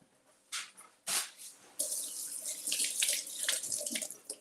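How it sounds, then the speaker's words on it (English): Tap water runs over a handful of fresh cilantro, starting in short splashes and settling into a steady, close rinse under the faucet in a home kitchen. "So let's just twist off a little bit and rinse it off."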